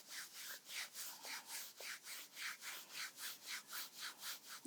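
Hands rub the outside of the right knee, making a soft, steady back-and-forth swishing of skin or fabric. The strokes repeat evenly, are quiet and close, and no one speaks.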